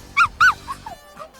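Dogs in the visual novel game Fureraba yip and whimper in short high bursts, two sharp yelps close together followed by softer squeaky whines, near and clear.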